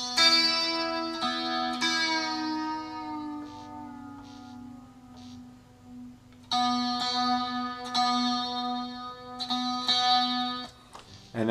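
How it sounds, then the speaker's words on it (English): An acoustic guitar's high E string rings against the B string while being tuned down, sustained bright plucked notes that fade slowly, then fresh plucks repeating the pair, close and clear with no talking. "take this high E string and you're just going to tune it down so that it sounds just like this B string next to it."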